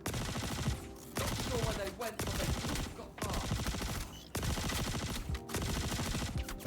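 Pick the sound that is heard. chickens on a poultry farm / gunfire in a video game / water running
gunfire in a video game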